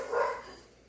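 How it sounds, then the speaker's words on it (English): A dog barks once or twice at a distance in a quiet room, a short muffled burst that fades out quickly. "That's the dogs."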